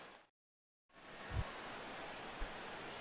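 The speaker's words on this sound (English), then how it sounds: "the rain continues to fall here" Steady rain falls over a baseball stadium as a broad, even hiss, broken by a short gap of near silence near the start and a couple of soft low thumps.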